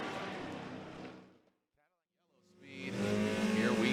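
A Toyota Corolla hatchback drift car on Ditto tires at a Formula Drift battle, its engine and tires roaring loud, fading to near silence mid-pass, then surging back as the car returns.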